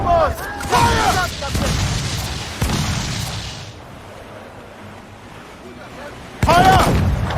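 Ship cannons firing in a naval battle in Assassin's Creed Freedom Cry, with several heavy booms and crackling blasts, then a quieter lull before another blast, mixed with shouted voices.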